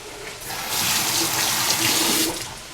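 Kitchen tap water runs and splashes into a sink while lasagne is being prepared, a steady loud hiss that swells after a moment and eases off near the end.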